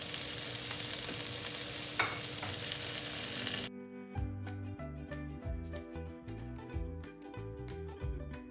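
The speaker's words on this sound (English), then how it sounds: "so we will saute it first" Chicken burgers sauté in olive oil in a pan, a steady loud sizzle that cuts off after a few seconds, replaced by background music.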